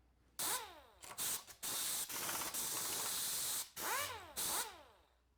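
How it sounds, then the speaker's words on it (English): A ball end mill cuts semicircular flutes on a milling machine, giving a loud, harsh grinding whine in several bursts separated by brief pauses, with sweeping pitch as the cutter engages and leaves the workpiece. "now I'm cutting the semicircular flutes"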